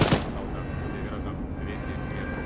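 Rifle gunfire in the Arma 3 video game, one sharp shot at the start followed by a dense, rumbling wash of distant battle noise that stays steady.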